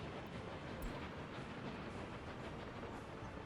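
A train in the city-building game Workers & Resources: Soviet Republic rolls along as a steady, faint broadband rush of rail noise, continuous and even, with no talk.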